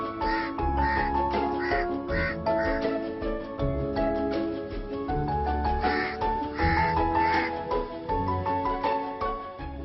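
Crows at a crow garden bird conservation site, a dense flock cawing loudly and continuously, overlapping harsh calls from many birds close by with no pauses.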